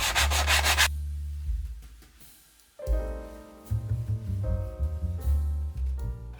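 Sandpaper rubs against a plastic model part of the U.S.S. Reliant in close, scratchy back-and-forth strokes, with a brief quiet pause before the rubbing resumes with uneven rhythm.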